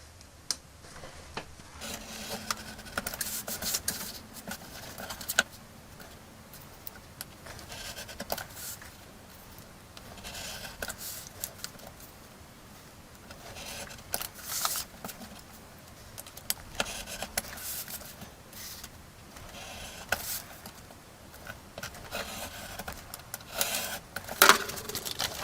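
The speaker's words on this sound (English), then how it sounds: "I've got a sharp knife here and I have a metal ruler, and I'm just going to carefully cut around the outside" A sharp knife scores along a metal ruler, cutting around the outside of a replacement cockpit glass piece for a vintage Snowspeeder toy; quiet, steady scraping strokes repeat close by with no talking.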